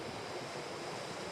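Waves wash steadily onto Kings Beach, a continuous broadband rush of surf with a faint wind edge, heard from a distance at moderate, even loudness with no voices.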